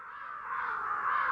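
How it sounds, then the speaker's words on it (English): A crow caws in the video game Ghostwire: Tokyo, one drawn-out harsh call that swells slightly toward the end, fairly faint and alone. "These crows, though."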